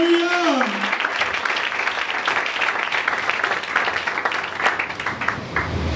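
A church congregation applauds during worship, sustained dense clapping from many hands filling the room after a short sung or spoken phrase at the start.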